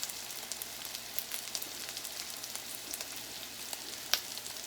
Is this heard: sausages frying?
yes